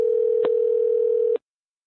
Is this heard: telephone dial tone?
yes